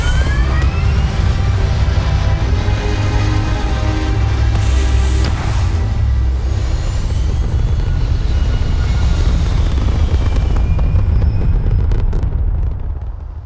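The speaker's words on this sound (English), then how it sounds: "Engines firing." Spaceship engines firing in the game Starfield, a loud sustained roar with a deep low rumble and rising whine, steady and near throughout with no voices.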